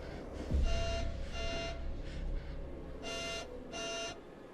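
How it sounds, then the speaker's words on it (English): Electronic alarm in The Devil in Me horror game sounds in repeated bursts of buzzing beeps, fairly faint under a low rumbling background, roughly four pulses spaced about a second apart. "Go deal with that alarm that's going off for whatever fucking reason"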